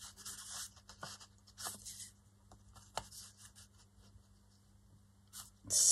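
Craft material being snipped into pieces for a flower cluster kit, with several short crisp cuts and rustles spread through a quiet room, ending in a louder crinkle.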